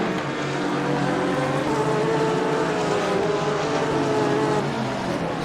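Aston Martin Vantage and Audi GT3 race cars in a sim racing game at Silverstone roar together in a steady, loud engine drone with shifting pitch that stays continuous throughout, with no talk.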